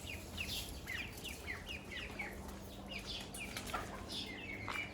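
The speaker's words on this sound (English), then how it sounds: "There's a big chicken right here." Chickens and ducklings at a home in Mardin, Turkey, clucking and peeping steadily and close by, overlapping calls filling the whole stretch.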